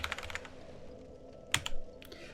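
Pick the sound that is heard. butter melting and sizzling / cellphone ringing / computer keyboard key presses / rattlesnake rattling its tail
computer keyboard key presses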